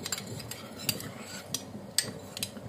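A spoon stirs cornstarch slurry into patatas bravas sauce in a pan, giving soft, faint scraping with a few light metallic clinks spread through.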